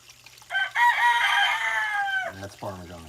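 A rooster named Parmesan lets out one long, clear crow up close, followed by a brief voice at the end.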